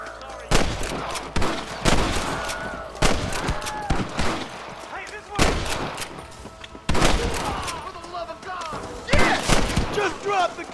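Rapid gunfire in a Red Dead Redemption shootout, loud sharp volleys and single shots bursting repeatedly across the scene, with game voices talking in between.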